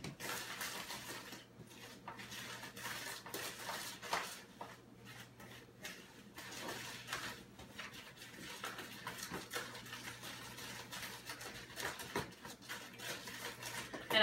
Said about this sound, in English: using the mixing spoon, I'm going to mix in the rest of it